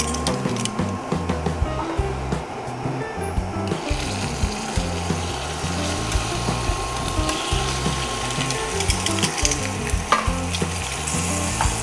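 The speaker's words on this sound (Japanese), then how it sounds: "さっと表面の色が変わるぐらい炒めたら" Chicken pieces frying in a pan for a French chicken and mushroom stew, a dense continuous sizzle with crackling pops and occasional stirring, close and steady throughout.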